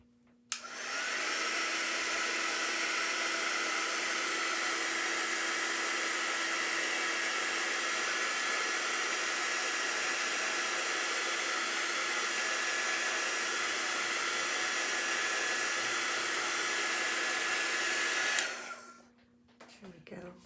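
A handheld dryer blows on a Chalk Couture chalk craft project, switching on with a click into a loud, steady whooshing roar that runs unbroken for about eighteen seconds before cutting off.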